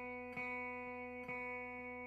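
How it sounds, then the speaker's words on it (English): Open B string on a guitar, the second string, ringing as a steady sustained tone with soft re-attacks from picking twice, clear and alone with no talk. "Second string is a B."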